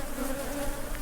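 Honeybees buzz in a dense, continuous drone during a hive inspection, close and steady with no talking.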